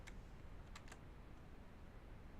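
Backspace keys tap on a computer keyboard, a few faint, quick clicks near the start, in a quiet room with low steady hiss.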